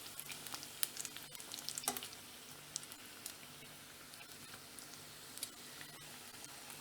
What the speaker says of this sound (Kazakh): Тұрған майға бауырсақтарды салып, сарғайтып, екі жағын сарғайтып пісіріп аламыз.